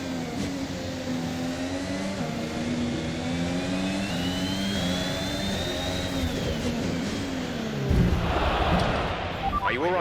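A car engine runs steadily with loud low harmonic droning and rising revs, a whining tone climbing above it, then a sudden louder burst near the end.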